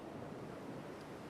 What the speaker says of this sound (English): You feel its movement in the sound of its waves, in the way the water arrives and departs